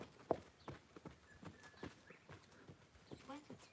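A horse held to a slow trot, its hoofbeats clip-clopping in a loose, steady rhythm at middle distance, with a voice talking quietly underneath.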